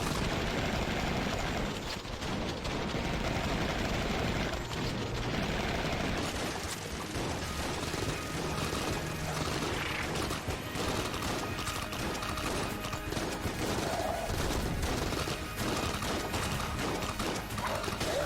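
Rapid, dense gunfire from the JK-AK gun and a double shotgun familiar during a boss fight in Enter the Gungeon, a continuous loud barrage of shots and impacts over busy game noise.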